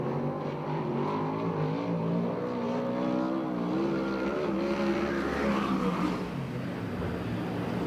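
A USAC/CRA sprint car, a former Keith Coons Motorsports car, runs a qualifying lap at Perris, California, its engine a loud, continuous drone that rises and falls in pitch as it works through the corners.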